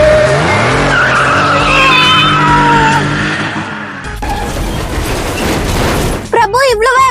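A car speeds along and skids with a loud, drawn-out tire squeal, the engine roaring up close while people talk over it.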